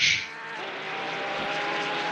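A race car in a racing video game crosses the line with a loud, steady engine drone that holds a rising, whining pitch, starting with a brief sharp burst.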